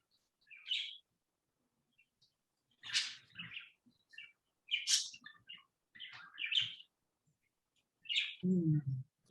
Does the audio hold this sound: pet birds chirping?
yes